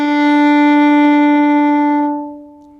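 A single sustained violin D note, bright and harmonically rich, held steadily for about two seconds before ringing out and fading.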